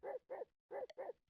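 Small dog giving four quick, sharp barks in two pairs, fairly faint and alone.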